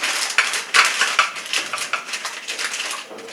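A small plate is set out with butter paper in a kitchen, giving a run of close, light clinks and papery rustles and crinkles over a few seconds.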